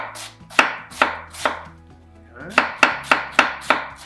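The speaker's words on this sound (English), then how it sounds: "Grab your knife, really thinly slice it" Kitchen knife thinly slicing cabbage on a board as the bed for a sausage tray bake: close, crisp, evenly spaced chops in two runs, a few strokes, a brief pause, then a quicker burst of cuts.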